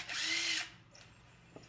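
A portable power drill whirs at high speed for about half a second close up, then spins down and stops, followed by a few faint clicks and taps.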